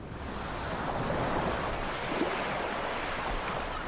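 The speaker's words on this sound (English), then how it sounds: "Here, wind and wave eat away at the rock" Wind and waves along the rugged coastline of southern England make a steady broadband wash, with surf surging gently and wind rushing across the microphone, no voices.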